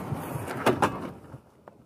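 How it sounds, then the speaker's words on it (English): A blast shield door in an RC workshop slides open with a quick pair of close scraping, rattling bursts, followed by a fainter single knock as it settles. "Can open up the blast shield all the way"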